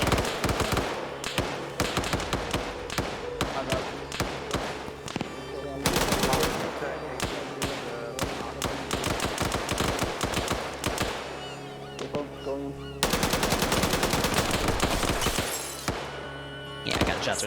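Gunfire in a video game training operation: loud, near bursts of rapid automatic fire roll on almost continuously, with brief gaps and heavier volleys returning.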